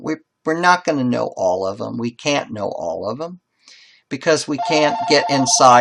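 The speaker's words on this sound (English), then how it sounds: "sorry about the phone call interruption" A telephone rings in a history lecture hall, a steady electronic pulsing tone that starts near the end and repeats in short regular bursts beneath a lecturer's continuous speech.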